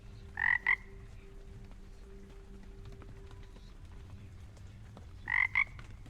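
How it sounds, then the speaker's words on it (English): Two short, close double croaks from a frog in the Hades II video game, a few seconds apart over a low ambient hum. "Frog."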